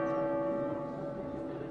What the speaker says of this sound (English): the bells of the Loggia Tower chime to streets all but deserted